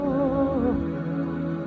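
An organ keyboard sounds a sustained B note, steady and close, with a brief wavering higher tone at the start that fades, leaving the held low tone alone.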